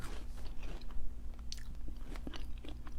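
Close, crisp crunching and chewing of a Korean cheese puff stick snack, with irregular bites and mouth sounds at low volume and no speech.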